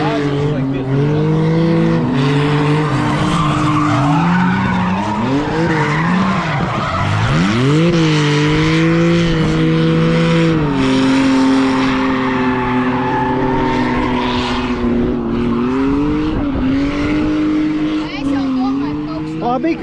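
A BMW E46 drifts donuts around a tire on dry pavement, with a loud, continuous engine roar that rises and falls with the throttle, layered with sustained tire squeal.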